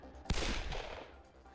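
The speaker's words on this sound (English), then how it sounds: "Sakamoto-san shot his pistol as a reflex" A single sharp pistol shot in the Hakuoki video game, loud and close, with a short decaying tail.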